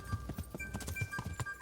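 Horse hooves clip-clopping in a steady gallop-like rhythm in Kingdom Come: Deliverance, close and moderately loud, with a faint game ambience underneath and no talking.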